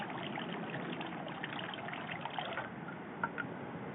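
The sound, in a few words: water poured from ladle at shrine purification basin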